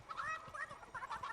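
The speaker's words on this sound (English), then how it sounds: "This was my very first chicken." A chicken in Fortnite gives a short burst of quick, faint clucks, several choppy squawking notes in rapid succession, heard alone.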